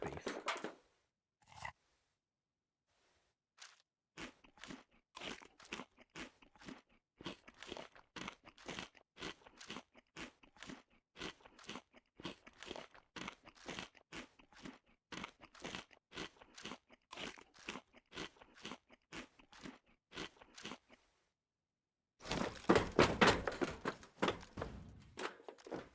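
A character in DayZ eats beef, a long run of evenly spaced crunchy bites and chews repeating close up for about twenty seconds, broken by a short pause near the start and ending in a louder burst.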